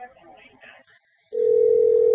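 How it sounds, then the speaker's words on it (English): Faint soft voices and rustling trail off into a brief hush, then a loud, steady single-tone telephone ring starts up and holds close and unbroken. "Oh, it's ringing."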